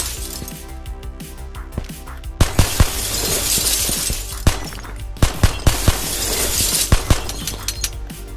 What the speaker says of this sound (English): Even silly stuff like being able to shoot out glass.